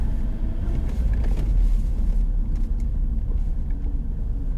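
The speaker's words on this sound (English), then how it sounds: "We're just going to drive back through again." A car drives through a shared street, its engine and road noise forming a steady, close rumble throughout with no voices.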